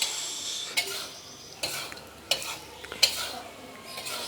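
Homemade KH dosing fertilizer mixture being stirred, a soft scraping swirl punctuated by four sharp ticks as the utensil knocks the container, close and fairly quiet with no talking.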